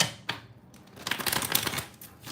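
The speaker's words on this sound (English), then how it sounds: "I'm going to shuffle the cards in the meantime" Tarot cards being shuffled by hand, with a couple of sharp taps and then a soft, rapid riffling flutter near the middle, close and moderately loud.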